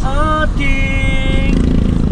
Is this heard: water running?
no